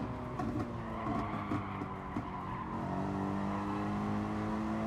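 A Porsche race car in the GT Sport racing game drives under steady engine drone with short tire squeals, no voices, loud and continuous throughout.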